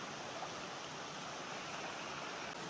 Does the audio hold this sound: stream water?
yes